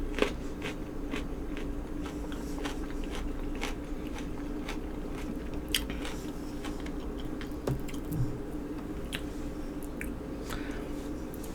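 Close, quiet crunching and chewing of raw vegetables dipped in ranch, with a steady rhythm of crisp bites and wet squishes and no talking.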